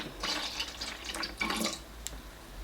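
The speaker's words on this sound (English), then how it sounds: "We're going to add some water." Water pours into a container to fill it, a close, splashy, uneven gush lasting a couple of seconds with no talk over it.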